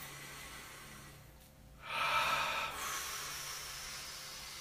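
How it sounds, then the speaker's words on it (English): One deep, close breath is drawn in with a rising airy hiss and let out more softly during a guided breathing exercise, heard alone over quiet room tone. "Take a deep breath, everybody"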